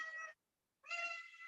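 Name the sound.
cat meowing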